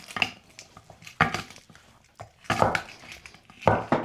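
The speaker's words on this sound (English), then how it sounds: "We're gonna smash all these cloves." Garlic cloves smashed one after another in a kitchen, giving four sharp, loud thumping impacts spaced about a second apart with quiet pauses between.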